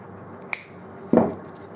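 Cutters snipping twisted Kanthal coil wire for a single-coil build on a Velocity RDA deck, two sharp close clicks about half a second apart, the second heavier and duller, with no talk over them.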